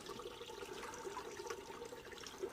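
Running water in a garden, a steady trickling flow heard at low level throughout, even and unbroken.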